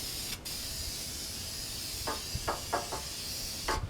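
Short hissing bursts of spray paint coating an outdoor wood boiler black, several quick puffs in a row near the end over a steady background hiss, close by.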